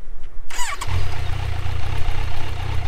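A Kawasaki Z900 motorcycle with its stock exhaust cranks briefly and catches, then settles into a loud, steady, close idle burble that continues to the end.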